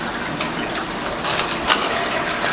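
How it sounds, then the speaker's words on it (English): Krill and Mysis shrimp are dumped into aquarium water, giving a continuous close watery splashing and gushing with a few small sloshes, no voices. "I'm gonna go ahead and dump the krill in here. So there's the krill in the water, and now there is the Mysis shrimp."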